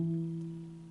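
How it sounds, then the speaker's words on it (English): A cello sounds a sustained E, a steady bowed tone that fades slightly over under a second, close and alone with no talking. "the note E."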